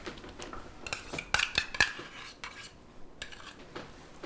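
A spoon scrapes and clinks while scooping French-style soft cheese into a bag, quiet and close, with a short cluster of brighter metallic taps partway through.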